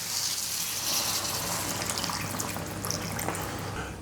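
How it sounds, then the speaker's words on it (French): Water pours steadily into a pan holding a pork roast in its cooking liquid, a continuous close gushing splash with no talk. "Je rallonge avec un peu d'eau"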